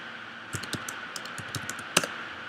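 Fingers type on a computer keyboard, a quick irregular run of close, crisp key clicks with one louder tap near the end and no talking.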